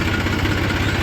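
A tractor engine idles and chugs along slowly, a steady low rumble with rhythmic pulsing knocks filling the whole short stretch, close and loud.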